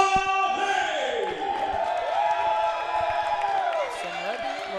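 A wrestling crowd cheers and whoops for the wrestler LaVey during ring introductions, with a sustained roar of voices beneath tonal, music-like sounds, with no clear pause.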